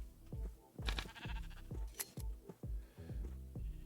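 Sheep in a video game bleat in a quick series of short, overlapping calls, several animals close by with clicky game sounds mixed in.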